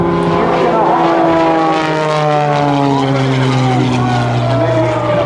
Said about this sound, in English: What he's going to do at Airshow centers, pitch it up into the vertical. Start by rolling this aircraft to the left.